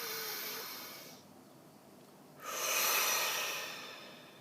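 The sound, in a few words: deep breath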